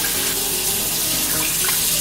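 Water running from a kitchen tap into a pot for rice, a steady close splashing gush that continues without a break, with no voices.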